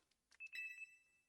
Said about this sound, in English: Alarm is going off.